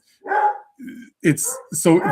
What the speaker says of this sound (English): Apologies on the dogs.